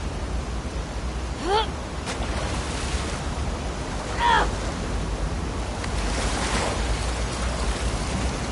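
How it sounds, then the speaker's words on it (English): Ocean waves from The Last of Us Part 2, heard while swimming toward the aquarium as Ellie: a steady, broad wash of surf and wind noise with two brief whistling swells rising out of it, and no voices. "swimming to the aquarium as Ellie when you were avoiding the waves"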